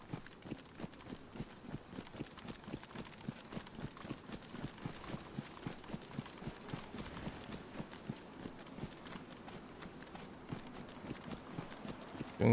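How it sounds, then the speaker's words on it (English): Heavy footsteps stomp the ground in the video game DayZ, a fast, regular thudding gait that repeats steadily and continuously, fairly faint against a low background. "Loud ass footsteps. I'm sure you stomp the ground wherever you walk."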